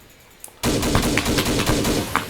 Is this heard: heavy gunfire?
yes